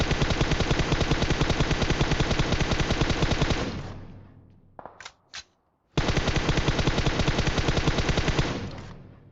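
Rapid automatic gunfire in the mobile battle royale game Free Fire, a long continuous burst that breaks off into a few isolated shots and silence, then resumes as another sustained volley, loud and close.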